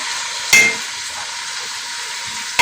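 Fish frying in a pan over heat gives a steady, close hiss, broken by two sharp clinks of a utensil against the pan; no talking.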